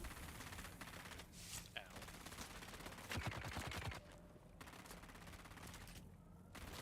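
A minigun fires in rapid bursts during a firefight in Dune: Awakening, a fast rattling stream of shots loud in the middle, amid other gunfire and a voice.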